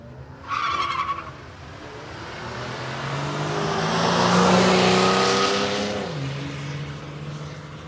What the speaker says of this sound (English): we got the little white Golf, VW Golf up against the old school Valiant Ute